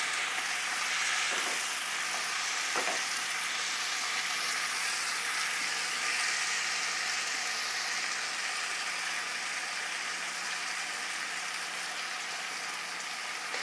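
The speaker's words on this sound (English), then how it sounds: "we're just gonna kind of fry that tomato paste just a little bit as well" Tomato paste frying in a pan for an Indian dish, a steady dense sizzle and crackle that holds close and loud throughout, with no voices over it.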